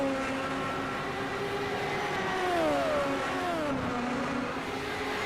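Several race car engines in an Indycar racing game on the Long Beach street circuit, a steady loud droning roar with pitch shifts as cars jostle for position toward the final corner, continuous and without pause.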